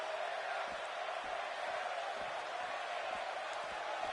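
A large arena crowd roars steadily at a wrestling event, a dense continuous wash of cheering with faint rhythmic thumps underneath.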